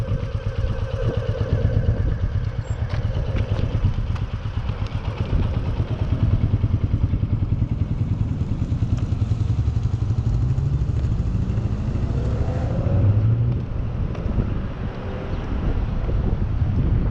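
A motorcycle engine drones steadily while the bike rides continuous circles during pre-MSF rider practice, with heavy wind buffeting the microphone and a faint shift in engine pitch as it loops.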